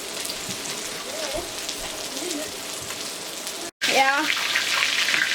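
Meatballs frying in a pan for meatball rigatoni broccoli soup, a steady close sizzle and crackle under brief talk, cut by a short gap before the hiss resumes slightly louder.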